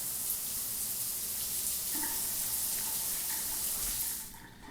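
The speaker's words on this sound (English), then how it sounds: "And then we'll quickly grab a shower." Shower water running steadily in the Denizen Life Simulator game, a broad hissing spray heard alone that fades out near the end.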